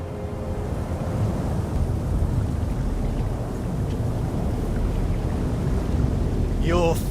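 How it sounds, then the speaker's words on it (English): Wind blowing in the Diablo IV video game, a steady roaring gust with a low rumble that persists throughout, and a brief voice rising near the end. "The wind is picking up"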